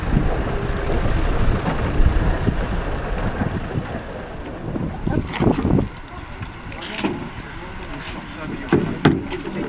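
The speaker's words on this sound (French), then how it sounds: "Nous naviguons entre les bateaux à fond plat qui partent sur les bouchots ramasser les moules." Strong wind buffets the microphone over open water while flat-bottomed mussel boats pass nearby, their engines rumbling under gusts, with splashes and brief knocks.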